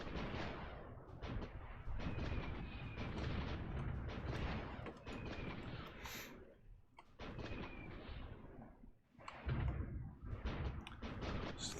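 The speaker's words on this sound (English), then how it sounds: "So that's some artillery down there that's hitting me" Artillery fire in the strategy video game Supreme Ruler Ultimate, a World War II battle in Germany: repeated heavy booming shots and rumbling impacts in quick clusters, loud and sustained with brief gaps, no voices.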